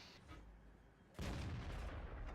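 A tank's main gun firing in World of Tanks while driving an M48 Patton: a sudden loud boom cuts into a steady engine rumble and stays heavy and sustained afterward.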